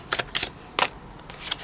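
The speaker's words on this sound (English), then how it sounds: "I shuffle them together" Tarot card decks shuffled together by hand, several quick papery riffles and slaps in an irregular rhythm, close and fairly quiet with no talk.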